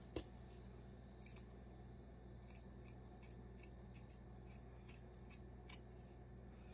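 Scissors snip through faux fur for a handmade gnome's beard, a series of crisp close cuts at an uneven pace in a quiet room, with one sharper clack near the start.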